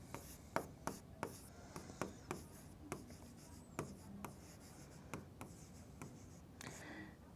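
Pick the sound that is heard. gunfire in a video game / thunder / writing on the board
writing on the board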